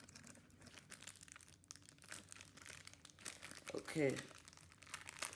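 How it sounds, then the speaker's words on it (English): Packaging around a Skymarks model airplane stand is torn open in an unboxing, with a steady, close crinkling and rustling that swells into a louder tearing rip, while a person briefly speaks. "we have ripped open the packaging"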